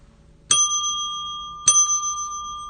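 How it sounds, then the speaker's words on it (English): A single bell is struck twice, each a bright ding that rings on and decays slowly, about a second apart, close and clear against a quiet background. "I still have my bell and I still use it on my channel"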